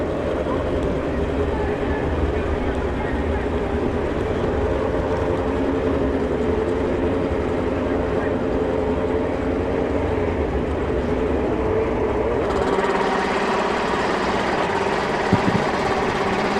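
Drag racing motorcycles at a Mancup World Finals strip, a steady loud engine drone filling the whole stretch with a shift in tone two-thirds of the way through.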